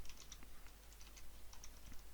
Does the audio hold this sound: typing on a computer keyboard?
yes